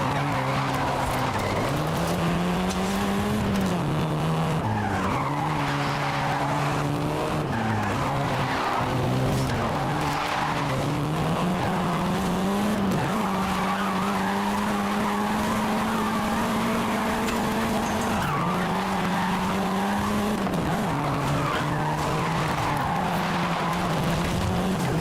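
Cars in Forza Horizon 5 driving hard, engines revving and wavering while tires squeal and skid repeatedly, loud and continuous for the whole stretch with no talking.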